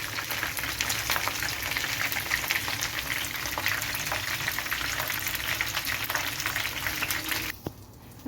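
Kerala-style chicken pieces fry in hot oil with a dense, continuous crackling sizzle and bubbling, close and loud, that cuts off abruptly near the end.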